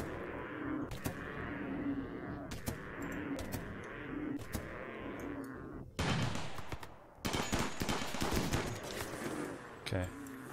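Rapid bursts of gunfire and automatic weapon fire during a fight in the video game RimWorld, loud crackling volleys with brief pauses, dense and continuous, a voice talking faintly underneath.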